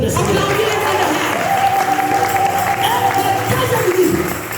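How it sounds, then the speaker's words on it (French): A church congregation applauds loudly for the Lord, dense sustained clapping from a crowd with voices and cheering mixed in throughout. "Est-ce que tu peux acclamer très fort pour le Seigneur?"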